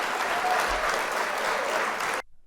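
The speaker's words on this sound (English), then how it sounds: "Round of applause." A crowd at a show breaks into loud, dense applause that holds steady for about two seconds and then cuts off sharply. No voices are heard.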